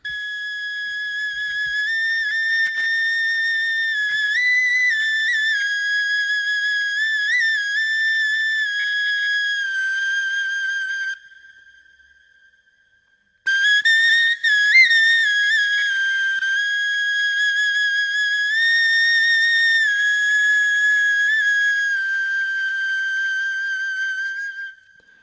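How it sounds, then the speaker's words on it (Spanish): A reconstruction of the ancient Hohle Fels flute plays a sustained, pure, breathy melody of long held notes, loud and alone, broken by one short pause before the tune resumes. "la primera audio que vamos a escuchar es una reconstrucción de esta flauta de Hohenfels"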